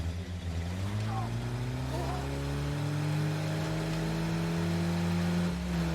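Worn, beat-up vehicle engine in a zombie video game, a steady low droning rumble with its pitch stepping between levels and a faint higher whine above, while a person talks over it.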